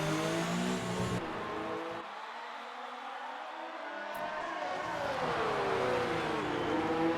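Race cars in a racing video game at the Singapore GP, engines droning steadily with rising and falling revs, the roar dropping briefly to a thinner tone mid-way before building again.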